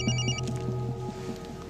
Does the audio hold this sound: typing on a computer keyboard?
no